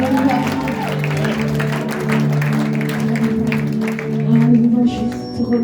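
A church congregation applauds and cheers during worship, a broad wash of clapping and crowd noise mixed with sustained singing or music and voices.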